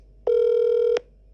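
A single steady telephone call tone on a radio call-in show, one clean beep lasting under a second, alone against a quiet background.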